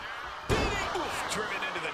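A wrestler crashes down onto a steel chair in the WWE 2K26 wrestling game: one loud, heavy metallic slam with a short ringing tail, set against crowd noise and commentary.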